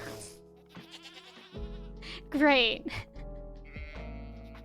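Goat bleating in a farm video game, a single short bleat rising over a player talking over a background music bed.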